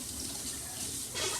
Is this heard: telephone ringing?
no